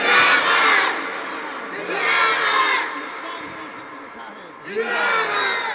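A large crowd at a religious gathering shouts Allahu Akbar in unison in response to a takbir call, three loud roaring bursts of massed voices separated by quieter gaps.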